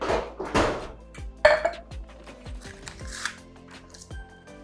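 Metal cupcake pan clattering and knocking as it is handled among party supplies and beaver cupcake liners, a string of close, sharp clanks and scrapes with ringing tones, no talking.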